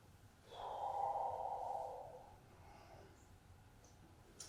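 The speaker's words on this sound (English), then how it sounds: "Continue deep breathing." A single slow deep breath drawn during a standing qigong spine exercise, a soft close airy exhale swelling for about two seconds and then fading into quiet room tone, with no talk.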